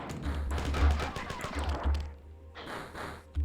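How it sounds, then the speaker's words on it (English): Assault rifle gunfire against hunters in the game Marathon, with rapid bursts of shots and heavy impacts crowding the first two seconds, then a brief lull and another close burst near the end. "I'm not going to take on a hunter with a pistol, I'm going to take him on with an assault rifle"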